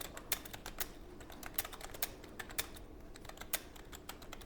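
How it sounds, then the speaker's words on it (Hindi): Quiet clicking of fingers typing on a computer keyboard, irregular clusters of sharp key taps at close range with short pauses, no talking. "यहाँ पे ऐसे आप टाइपिंग करेंगे"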